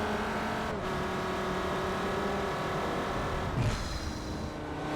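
Race cars from Forza Motorsport 4 roar around the Nürburgring, a loud continuous engine drone with gear shifts and a brief tire squeal near the end, with no talking.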